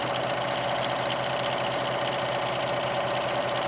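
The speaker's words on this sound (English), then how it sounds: "Zigzag stitch around the fabric edges." A sewing machine running steadily while zigzag stitching around fabric edges, a close, continuous mechanical whirring with a fast rhythmic tapping, no talking.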